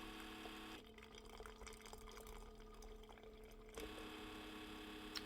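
A coffee machine pushing descaling solution into a cup, a faint steady trickle and drip under a constant pump-like hum that drops out briefly in the middle and then resumes, quiet and close, with no talking.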